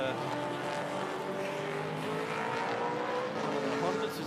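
Race cars roar past on the Bathurst circuit during the Repco Bathurst 12 Hour, a dense sustained engine drone with layered tones under a commentator's voice.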